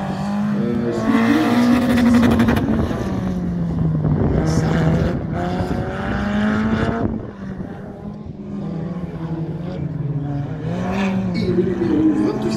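A race car in an autocross slalom at Ancenis, its engine loud and close, revving up and dropping as it weaves through the cones, with rising and falling pitch and brief lulls between bursts of throttle.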